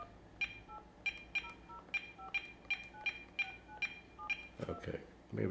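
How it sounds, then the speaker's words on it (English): A telephone keypad dialed with a calling card sends a rapid series of short DTMF beeps, about a dozen evenly spaced tones, close and clear, with brief voice murmur toward the end. "Oh, do I have to dial 9, right?"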